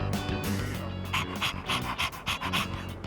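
A dog panting in Persona 3 Reload, quick rhythmic breaths close by over steady game background music, with a short whimpering note.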